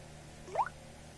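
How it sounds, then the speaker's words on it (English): A single short water-drop notification chime from a 2012 Samsung Galaxy S3 smartphone, a quick rising plop near the middle, faint and alone against a quiet background hiss. "When I have it off of silent mode, it always makes that water dropping sound"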